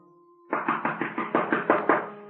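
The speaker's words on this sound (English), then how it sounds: "Answer your door, Ziegler!" Knocking on a door in a radio drama: a rapid series of about nine loud, evenly spaced raps follows a low steady hum, each knock sharp and close.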